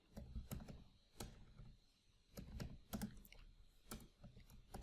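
Someone types on a computer keyboard while writing Python code, producing quiet, irregular bursts of clicky keystrokes with short pauses between them.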